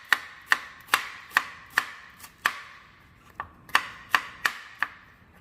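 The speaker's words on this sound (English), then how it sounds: "And we want lots of onions for these Vidalia Onion smash burgers. So we're just going to slice those up." Knife slicing through Vidalia onions on a cutting board for smash burgers, about a dozen crisp, evenly spaced chops close up, each a sharp click of blade against board, with no talking.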